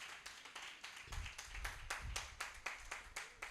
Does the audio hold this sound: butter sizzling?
no